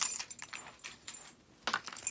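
Keys jangling in a hand, several bright metallic shaking bursts close by with short pauses between them.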